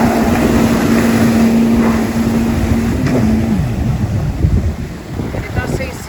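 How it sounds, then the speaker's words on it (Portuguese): A 2020 Yamaha FX Cruiser HO jet ski idles and then accelerates from a start, its engine whine steady before shifting and rising, under heavy wind noise and water rush, with a voice talking over it. "Agora vamos ver a arrancada."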